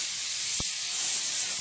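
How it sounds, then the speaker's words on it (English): Steam from a pressure canner holding 10 pounds of pressure over a propane burner hisses steadily and loudly, with one short sharp tick partway through. "the pressure cooker is up to 10 pounds, and the steam's coming out pretty steadily for 10 minutes"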